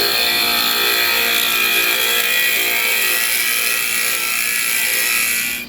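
A drill bores into old barnwood at a 45-degree angle, a steady whining grind that holds close and loud for several seconds before cutting off at the end.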